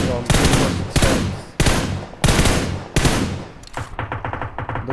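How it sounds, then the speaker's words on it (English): Heavy gunfire from an M46 in PUBG Mobile: five loud, spaced booming shots, each with a long decaying tail, then a faster burst of sharper, quieter cracks. "the stab firing from M46"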